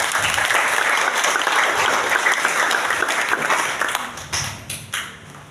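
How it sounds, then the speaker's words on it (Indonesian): An audience applauds at the fifth anniversary celebration of SMA Negeri 16 Kepulauan Tanimbar, a school, with dense sustained clapping from a crowd that thins into scattered claps toward the end. "Kita beri aplaus dulu."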